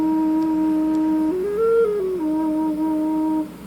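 A homemade Native American fifth drone flute, also called a temple drone, holds a steady low E flat tone alone. The pitch rises briefly in the middle, then settles back before the note cuts off.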